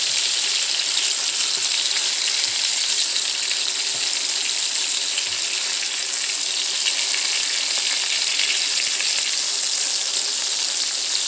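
Burger patties fry in a pan with a dense, steady sizzle and constant fine crackling and popping, loud and close, with no talk.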